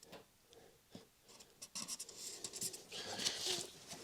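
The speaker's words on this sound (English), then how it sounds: "I'll just draw this on a piece of paper" Pen strokes scratching across a sheet of paper, a series of short rubbing scribbles that grow busier and louder toward the end, close up with no talking.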